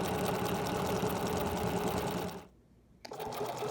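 A sewing machine stitches decorative stitches on a fused art quilt, its steady fast mechanical whir running close and even before briefly stopping and then starting up again.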